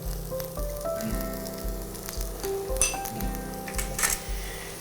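Carrots sizzling in a pan as butter is added and they keep cooking, a steady close frying crackle with a low hum and a few faint pan clinks.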